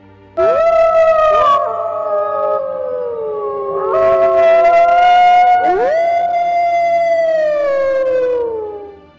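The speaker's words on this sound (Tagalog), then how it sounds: "nakakatindig balahibong along ng mga aso" Several dogs howl in a village at night, long rising and falling wails overlapping in waves, loud and close, with pauses between howls and no talk.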